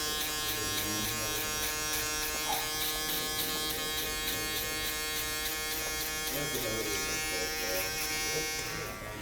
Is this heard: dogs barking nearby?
no